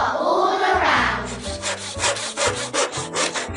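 A hand saw cutting through wood, a series of rhythmic back-and-forth rasping strokes, close and fairly loud, with no talk over it.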